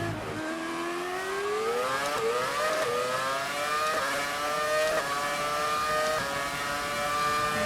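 A V10 Formula One engine from the racing game F1 2018 wails continuously behind the car, rising in pitch through each gear and then dropping at the shifts, loud and steady and heard without any talk.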